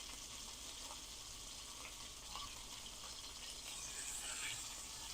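Steak fat sears in a hot pan with a steady, close, crackling hiss that grows slightly louder toward the end, with no talking.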